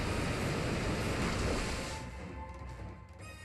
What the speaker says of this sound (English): Muddy Water is going to avoid Celesteela, unfortunately